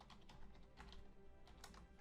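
Key clicks from a wireless PC keyboard in rapid, uneven bursts, fairly close and fairly quiet, with no voices.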